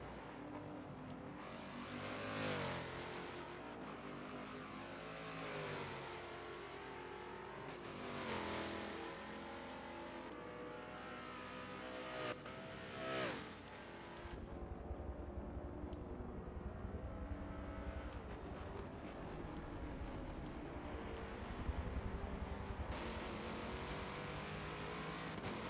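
An LMP2 prototype race car's engine drones and revs through an onboard lap at Road America during a six-hour endurance race, steady and close with rhythmic rises and drops as gears change, with no talk.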